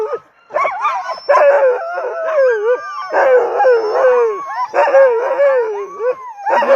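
A pack of Alaskan husky sled dogs howls, yips and barks together at the start of the Knik 100 sled dog race near Settler's Bay, a loud, dense chorus of overlapping wavering howls that carries on throughout.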